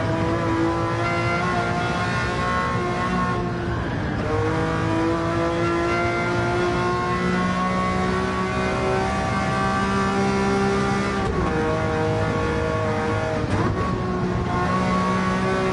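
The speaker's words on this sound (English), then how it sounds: "that's a fun car to drive, especially VR" A car engine in Gran Turismo 7 played on PSVR 2 revs loudly and steadily, climbing through gears with brief dips at each shift, the tone sustained and close throughout.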